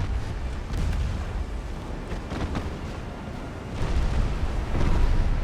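Heavy shell impacts and booming naval gunfire in a dreadnought-era warship battle game as a hit knocks out a forward turret, a dense, sustained rumble with repeated explosive bursts swelling louder toward the end.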